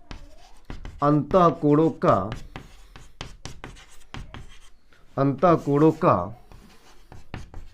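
Chalk or marker scratching across a classroom board during a Class 9 geometry lesson on triangle angles, faint strokes running beneath a teacher's steady lecturing voice.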